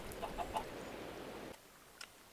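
Minecraft chickens give a few short clucks near the start over steady background hiss, then the sound drops away, leaving one faint cluck near the end.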